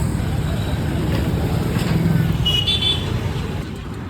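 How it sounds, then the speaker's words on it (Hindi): Heavy city road traffic with trucks and cars crowding in, a steady dense roar of engines and road noise with occasional horn-like tones, continuous throughout. "दोस्तों आज का हमको क्रेजी ट्रैफिक मिल रहा है।"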